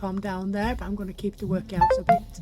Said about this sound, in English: Sorry, that was my phone.